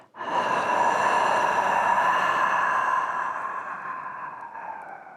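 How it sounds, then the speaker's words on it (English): Ujjayi-style breathing: a long, steady, breathy rush of air drawn through the nose, then a softer tapering exhale through the mouth, close and alone for about five seconds. "Keeping your mouth sealed, inhale through the nose, Ujjayi. Opening the mouth, light Simhasa."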